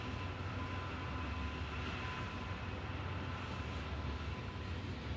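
A passing freight train hauling petroleum makes a steady, heavy rumbling roar that fills the whole stretch at a constant level, with no distinct clatter rhythm and no one speaking.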